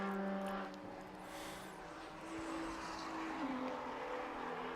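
A BMW 135i race car, number 218, passes at Knockhill circuit in a steady engine roar with a rising and falling pitch, heard amid broad track ambience and no talk.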